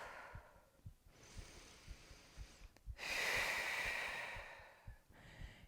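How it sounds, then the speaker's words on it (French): Slow, audible breathing during a morning hatha yoga pose, with a long soft inhale followed by a stronger, fuller exhale, close and steady in a quiet room with no talking. "On respire."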